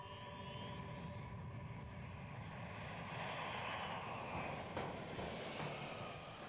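Aircraft landing at an air base, a steady broad engine roar with a whining tone, wind-like rush, and a swell in loudness midway.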